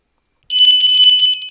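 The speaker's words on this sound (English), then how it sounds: "Steve then heard the same tinkle of the bell that he had heard during the night" A small silver bell tinkles in a bright, shimmering run of rapid strikes that starts abruptly after a moment of silence, close and clear with no voices.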